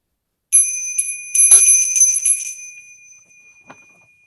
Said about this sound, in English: we'll invite the bell